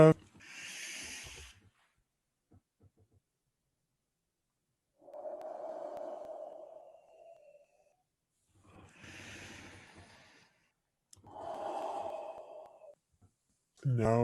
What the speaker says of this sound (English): Take those deep breaths.